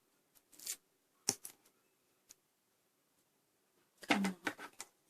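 Scissors cutting paper for a DIY paper web shooter, a few short crisp snips spaced apart, close and quiet, with a cluster of quick cuts near the end.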